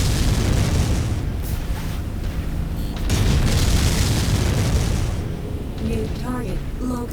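A mech blows up in the game Mechwarrior 5 Mercenaries: loud, dense booming blasts and rumble fill the whole stretch, a heavy burst near the middle, and a few tonal electronic beeps near the end.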